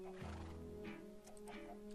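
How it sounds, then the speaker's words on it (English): A horse in Minecraft gives a short whinny, a single close call with a wavering tone, heard alone without talk. "So this is my first horse."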